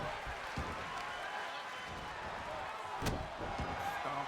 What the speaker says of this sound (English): and slams her down on the mat